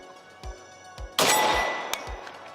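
Rapid rifle shots from a 5.56 AK ring off a steel target outdoors, a few sharp cracks each followed by a bright metallic clang, spaced unevenly and loud against a quiet background.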